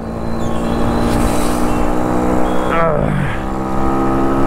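A vehicle engine revs and speeds along a local road at night, a loud steady drone with a rising and falling pitch sweep partway through, while a person talks over it.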